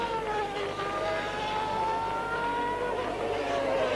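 A 1993 Williams Formula One car driven by Damon Hill on its out lap in Portugal qualifying, its high-pitched engine whine heard at a distance, rising and falling steadily as the car runs around the circuit.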